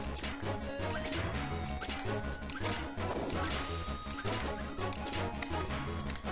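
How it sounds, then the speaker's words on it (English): Rolling enemies collide in a video game, with several sharp crashing impacts scattered across a steady, loud background of game music. "They end up crashing into each other."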